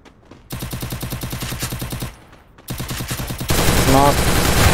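Rapid automatic gunfire from a shooter video game firefight, sustained bursts loud and close with a brief pause between them, then a denser burst mixed with other game noise.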